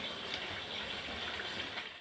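Water pours steadily into a pot of browned chicken curry, a soft continuous gush and splash at low volume that runs evenly before it tapers off at the end.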